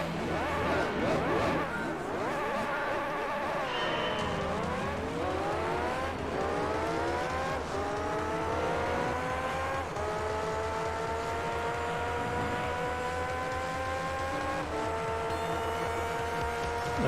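Race cars lapping the Rome circuit in Gran Turismo 3, engines whining and shifting through gears with repeated rising pitch sweeps, loud and continuous with a brief dip as a car brakes and re-accelerates.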